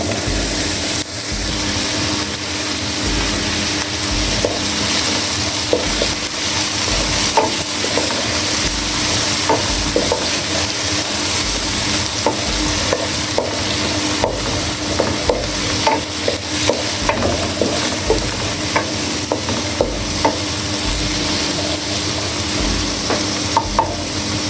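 Tomatoes frying with garlic in a pan for a mixed vegetable dish hiss in a loud, constant sizzle, with frequent light stirring scrapes and clicks throughout and no talking.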